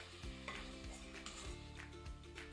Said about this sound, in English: So cook your pork.